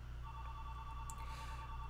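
A grandmother's telephone rings faintly in the background, a thin steady electronic ringtone over a low constant hum, with no voices.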